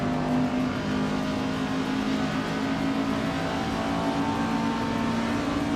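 A classic 1962 Jaguar Mark II races in a video game, its engine holding a steady, buzzing drone with a constant whine throughout, sustained and close with no voices.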